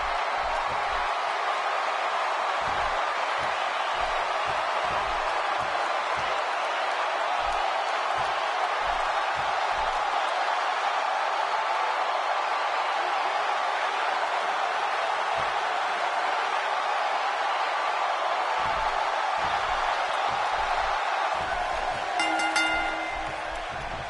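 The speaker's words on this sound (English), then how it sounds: "A raucous crowd on hand tonight for Money in the Bank." Arena crowd at a WWE 2K17 Money in the Bank wrestling event, a steady roaring wash of cheering and crowd noise throughout, loud and continuous with no speech.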